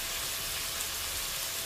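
Food sautéing in a hot pan, a steady dense sizzle throughout, close and even with no breaks, no voices over it.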